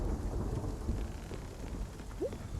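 Thunder and steady rain from a lightning storm in the video game Spiritfarer, a continuous low rumble under a dense hiss of rainfall, no voices.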